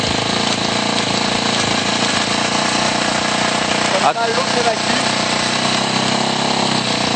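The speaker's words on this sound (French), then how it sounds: "On va garder la moto un peu accélérée." Dirt bike propped on its side stand in gear, engine held at a slightly raised steady rev, loud and continuous throughout with a brief dip near the middle, while someone talks over it.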